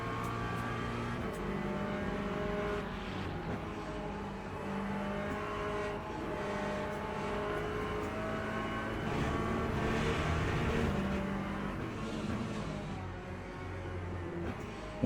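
A Porsche revs through a racing video game, with steady, loud, continuous engine drone and shifting harmonic pitches running throughout, busy with layered engine tones from nearby cars and no talking.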